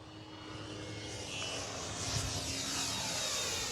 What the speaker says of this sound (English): Sounds like a real plane.